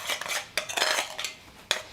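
A spoon mixes peanut butter and olive oil in a hand-painted bowl, clinking and scraping against the sides in quick irregular bursts, up close and with no voices.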